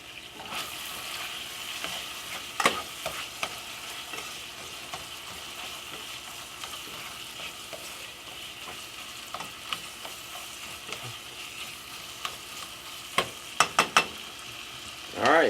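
Ground beef browns in a hot pan while tostadas are made, with a steady close sizzle and occasional sharper scrapes and clinks from stirring.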